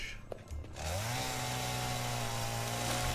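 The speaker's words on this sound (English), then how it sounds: "I find it's a little bit easier to use the chainsaw" A chainsaw from the video game Satisfactory revs up after a moment of quieter noise, then holds a loud, steady motor whine with strong harmonics until the end.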